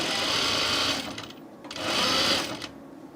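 A sewing machine stitches a French seam on a shirt in two close, loud bursts of whirring, separated by a short pause.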